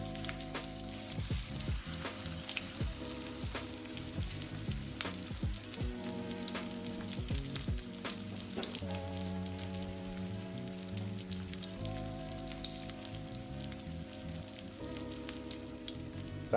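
Chicken Kievs fry steadily in a pan over medium-high heat, a dense continuous sizzle with crackling spits and occasional clinks, loud and close, with no talking.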